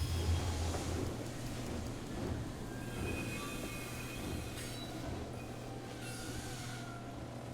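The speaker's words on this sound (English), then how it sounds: "The train can bring in more stuff." A train arriving in the WWI strategy game War Hospital rumbles steadily with a low drone, with faint squealing wheel tones drifting above the constant rolling noise.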